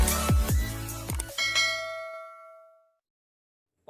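A bright notification bell rings out in a quick cluster of clanging dings, each tone ringing on and fading away into silence, with a faint click at the very end.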